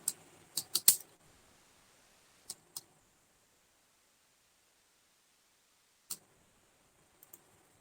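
A few scattered computer keyboard keystrokes while a rate of interest is entered into a spreadsheet, a quick cluster of clicks at first, then isolated taps with long quiet gaps between them, close and fairly soft.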